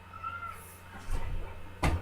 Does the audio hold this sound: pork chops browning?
no